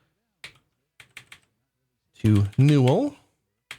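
A handful of sparse key presses on a computer keyboard, soft isolated clicks spaced apart, with a brief spoken phrase in the middle.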